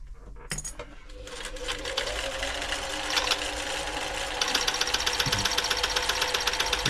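A Riccar 8400 sewing machine starts up and runs steadily with its bobbin case removed, a loud, close mechanical whir with rapid rattling, knocking clatter that grows slightly louder as it keeps going.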